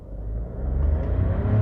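A Volkswagen Nivus Highline 200 TSI with a 1.0 engine pulls hard in first gear in manual mode, its steady engine rumble swelling and rising in pitch from inside the cabin, with no talking.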